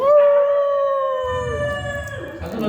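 A person imitates a wolf howl with one long, loud, sustained vocal wail close to the microphone, which dips and fades toward the end while faint background noise rises.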